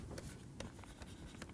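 Chalk or marker scratching out a lemma on a lecture board, a series of faint, quick strokes and taps in an irregular rhythm with no talking.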